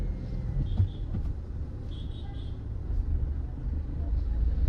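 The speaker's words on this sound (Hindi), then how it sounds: "ये मेन रोड है, जाम लगा हुआ है।" A traffic jam on a busy main road makes a steady low rumble of idling and crawling cars and buses, with faint horn tones now and then, heard from inside a vehicle.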